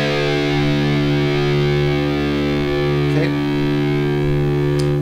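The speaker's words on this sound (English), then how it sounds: "take your low E string and tune it to D," Electric guitar with heavy distortion, low string dropped to D, rings as a sustained low drone, loud and steady, alone without talk, with a brief pick scrape partway through.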